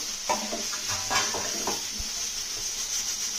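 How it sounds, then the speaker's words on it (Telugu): Boiled potatoes stirred with garam masala in a hot pan, a steady close sizzle under irregular scraping strokes of a spoon against the pan, with no talking. "ఇప్పుడు మనం ఉడికించి పెట్టుకున్న బంగాళదుంపలు వేసి బాగా కలుపుదాం"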